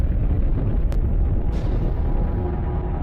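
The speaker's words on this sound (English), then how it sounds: "This is a gamma-ray burst, the biggest explosion to rock the universe since the Big Bang" A deep, sustained rumbling blast for a gamma-ray burst, a cosmic explosion, roars loud and dense throughout, with a couple of brief bright cracks layered over the continuous low-heavy roar.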